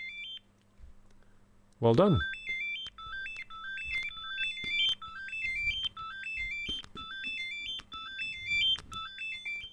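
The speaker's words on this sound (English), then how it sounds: "it can pretty much just emulate a speaker by making the Joy-Con vibrate at the same frequency as sound" A Nintendo Switch 2 Joy-Con rumble motor emulates sound in the Switch 2 Welcome Tour demo, playing a thin, buzzy stepped melody that repeats steadily after a sharp swooping tone. Quiet background voices are heard.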